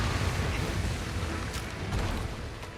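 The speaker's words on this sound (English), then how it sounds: "It's a big explosion of fire" Espinas unleashes a fiery super attack in Monster Hunter Rise Sunbreak: a loud, sustained roaring blast of flame and explosion that rumbles on without pause, with a few sharper crackles near the end.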